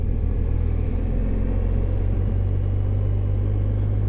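Motorcycle engine held in second gear on a downhill Alpine road in Austria, a steady low rumble with constant drone and wind, close and continuous without any voices.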